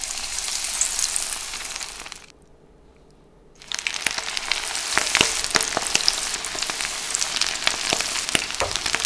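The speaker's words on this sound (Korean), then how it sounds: "두릅 1개에 베이컨 2개 정도를 붙여서 반죽옷을 입혀 튀겨냅니다" Bacon-wrapped fatsia shoots coated in batter deep-fry in 170-degree oil with a loud, steady sizzle and crackle, broken by a brief quiet pause before the popping bubbling resumes.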